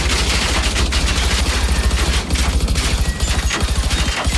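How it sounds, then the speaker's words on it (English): A Browning M2 heavy machine gun in the video game Generation Zero fires in a dense, continuous stream of heavy rapid shots, loud and close throughout. "You can also have something like M2, a Browning M2 heavy machine gun."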